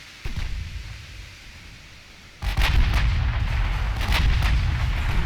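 Naval gunfire from escort warships in the game Ultimate Admiral Dreadnoughts: a dense, loud roar of cannon blasts that swells sharply partway through and keeps rumbling steadily, with no voices.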